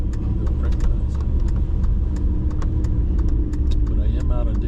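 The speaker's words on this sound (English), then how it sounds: "So it's an Air Force trailer and an Air Force truck going somewhere." An Air Force truck pulling a trailer drives past in Minot, North Dakota. It makes a steady, loud rumble of engine and road noise, with scattered light clicks and rattles on top throughout.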